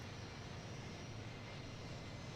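Steady, loud engine drone of a C-17 Globemaster transport flying in a flight simulator game, a continuous broadband roar with no talk.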